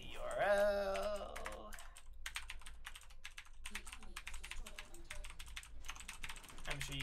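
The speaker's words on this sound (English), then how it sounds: "I really like the clackety clack of mechanical keyboards" Rapid clacking keystrokes on a mechanical keyboard while a URL is typed, a fast irregular run of sharp clicks that starts after a brief tonal sound and continues steadily to the end.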